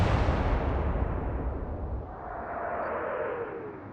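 A heavy naval gun salvo from the Atlantic Fleet video game, fired at the Bismarck, lands as one deep booming blast that rolls off into a long, fading rumble.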